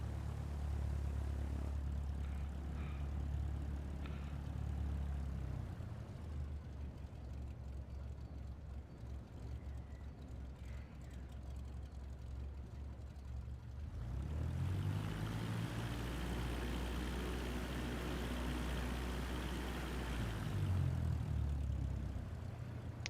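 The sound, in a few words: plane taxiing to runway in video game Microsoft Flight Simulator 2024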